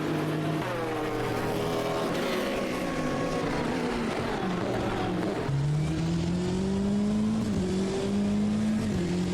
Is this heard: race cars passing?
yes